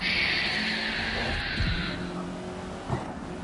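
Race car in GRID Legends boosting on nitrous, a sustained bright engine roar and tyre hiss that eases after about two seconds, with a brief thump near the end.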